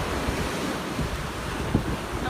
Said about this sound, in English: it's really windy. Really windy.